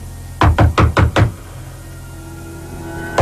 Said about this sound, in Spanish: subí y llamé a la puerta